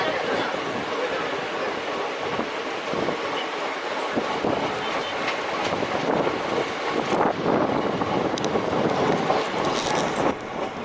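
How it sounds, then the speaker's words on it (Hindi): A passenger train runs along the Delhi–Agra–Dholpur line, a steady rumble and rattle of wheels on rails with wind buffeting and occasional clanks and squeals, heard from aboard. "अब ये ट्रेन धौलपुर पहुंचने वाली है"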